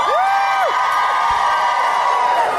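A fan audience at a KupoCon convention panel screams in response, a steady wall of loud crowd noise lasting the whole moment, with a high whistle-like wail rising and falling near the start.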